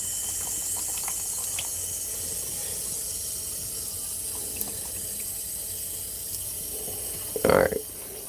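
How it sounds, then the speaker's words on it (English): A faint steady hiss of water trickles from a tap under a constant background whir, ending in a brief louder gush of running water near the close, set at a home fish and shrimp tank feeding. "So now get a little bit of water."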